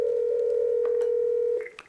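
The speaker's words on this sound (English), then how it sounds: "My phone rings Ian's phone" An X7 handset calling another internal extension gives a steady single tone that sounds close and loud for about a second and a half, then stops, followed by a couple of brief higher beeps.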